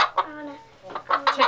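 Chickens cluck in short clustered bursts close by, with a quiet pause in the middle and louder, busier clucking toward the end.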